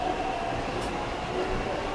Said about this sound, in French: Donc, comme tu vois, le métro, regarde, jette un coup d'œil